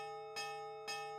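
Large bells clang in the Nightshade video game, two loud strikes about half a second apart over a sustained, ringing tone, with no voices.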